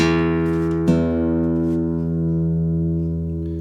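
Two guitar strings ring together while being tuned by ear with the fifth-fret method, a sustained plucked tone with a slow wavering beat and a second pluck shortly after the start, fading gradually.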